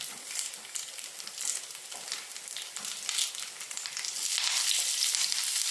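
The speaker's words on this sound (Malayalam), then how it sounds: "ഇതെല്ലാം കൂടെ ഇട്ട് നമുക്കൊന്ന് മൂപ്പിച്ചെടുക്കാം" Curry leaves and spices frying in a pan for a prawn roast, a steady bright sizzle with crackling that swells louder toward the end, no talking.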